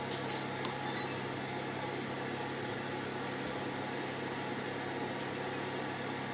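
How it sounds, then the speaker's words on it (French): A kitchen oven switched on during foie gras preparation, with a faint click near the start followed by a steady, fairly loud fan-like whir and hum that runs evenly throughout, with no voices. "Je vais vite allumer le four"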